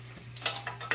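Bacon frying in a pan gives a soft, steady sizzle with a few sharp crackles and pops, close and quiet, and no voices.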